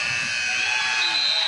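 A sustained electronic buzzer blares steadily at a basketball game for over a second, a shot clock sounding with no break.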